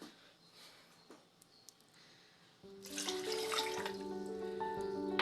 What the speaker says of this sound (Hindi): इसमें अब मैं 2 गिलास ऐड करूँगी पानी के